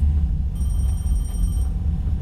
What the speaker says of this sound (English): Turn off that phone.